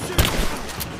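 Gunfire from Rise of the Tomb Raider, several loud close bursts in quick succession over a noisy game background, no talking.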